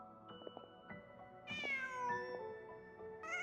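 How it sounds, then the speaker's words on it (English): A cat meows in the game Genshin Impact, a few soft calls rising to one longer, clear meow, with soft game music underneath and no talking. "Just a cat."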